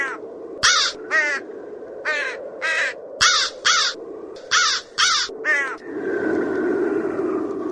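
A flock of hungry crows circles over a gathered crowd, with cold wind blowing between buildings and tree branches. There are about a dozen loud, harsh caws in uneven bursts, then a steady rushing wind-like noise.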